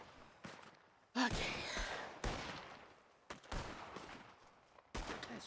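Rifle gunfire in the Red Dead Redemption 2 roleplay game, with several loud, sharp shots and bursts whose echoes trail off, spaced irregularly through a near, busy firefight with no talk.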